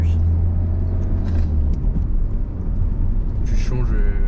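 A car accelerating during a driving lesson, a steady low engine rumble rising under the cabin noise, close and continuous, with a brief squeal of other sound near the end.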